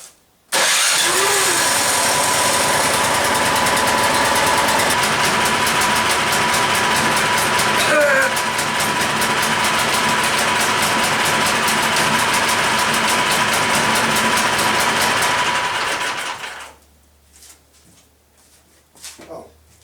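A Craftsman snowblower engine catches and runs, a loud, steady mechanical roar close by that holds for about fifteen seconds before cutting out to quiet.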